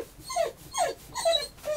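A young puppy, about two months old, squeaks nearby in four short, rising whimpers in quick succession.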